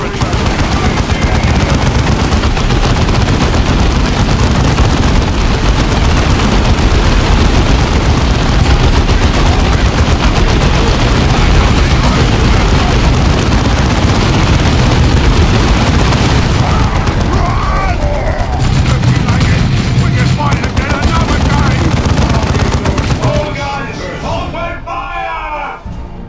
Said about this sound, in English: Our heavy bolters are deadly, but they take time to set up and have a limited field of fire